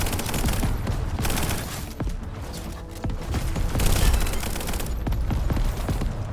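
Gunfire in a hoverboard first-person shooter video game: dense, continuous bursts of rapid shots and booms, loud and unbroken, with no talking.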